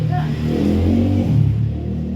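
A motorcycle passes close by, its engine rumbling and briefly revving in a steady low drone that swells and fades over about two seconds, with no talk over it.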